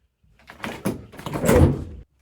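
A refrigerator door in the kitchen of an abandoned mansion pulled open: a close, single rustling release that builds for about a second and a half, then stops, with no voices.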